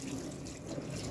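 A tap runs in a steady, close, broadband wash while hair is being wetted before shampooing, with no voices over it.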